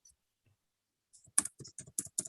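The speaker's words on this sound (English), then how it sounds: "Can you use the scroll down arrows on your keyboard?" Several crisp clicks of arrow keys being pressed on a computer keyboard, a quick irregular run of about six taps close by after a near-silent start, with no talking.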